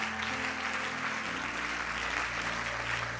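Church congregation applauding and cheering at a French-language prayer service, a steady wash of clapping that continues throughout with an organ or keyboard note sustained beneath.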